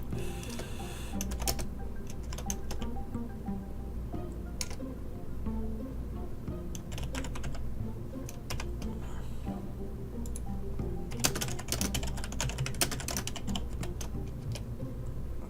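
Steady typing on a computer keyboard throughout, with dense bursts of clicking key presses over a constant background hum and no talk.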